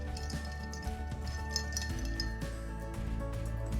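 Ice cubes clink against glass as a martini cocktail is stirred, a soft, steady run of light chinks over a constant low hum in the background.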